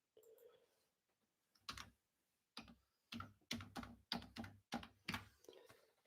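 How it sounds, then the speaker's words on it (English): Keyboard typing in a quiet room: a handful of separate keystroke bursts, then a steady run of eight or so clear, evenly spaced taps close by, with no talking. "I'm going to type it right here"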